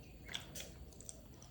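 Someone chews a sweet stuffed wheat snack filled with banana, coconut and jaggery, giving soft, quiet, close-up mouth sounds with faint squishes and small crunches, with no talking.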